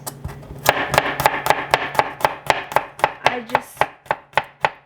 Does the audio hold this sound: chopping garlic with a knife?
yes